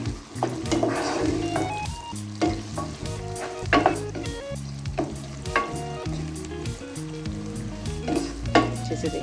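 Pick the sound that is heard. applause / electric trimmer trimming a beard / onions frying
onions frying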